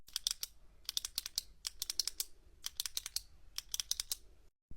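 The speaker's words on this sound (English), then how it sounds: "Can you stop clicking that pen?" Rapid bursts of sharp plastic pen clicks, repeated in quick clusters with short pauses, close and crisp in a quiet classroom, no talk.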